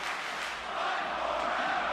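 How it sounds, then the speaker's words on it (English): A wrestling crowd at an FPW Championship Wrestling show roars in a steady, dense wall of cheering and shouting that holds level for the whole moment, with no single voice standing out. "The crowd is on fire"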